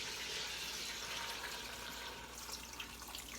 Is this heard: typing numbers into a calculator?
no